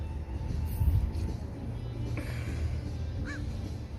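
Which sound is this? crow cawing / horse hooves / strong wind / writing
crow cawing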